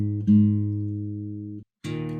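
A guitar's open A string, tuned down a half step, rings out as a single plucked note that sustains and slowly fades, followed by a short silence and a second pluck cut off early.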